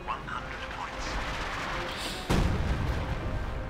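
An M36 Jackson tank destroyer fires its gun in Company of Heroes 2, a single loud, heavy blast that cuts in midway through dense battle ambience, with a voice talking faintly underneath.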